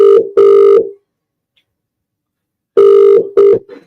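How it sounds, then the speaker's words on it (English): An outgoing telephone call rings unanswered: two loud double ring bursts separated by a long silent gap, clear and close with no talking. "He's asked for a call and now he's not answering the phone."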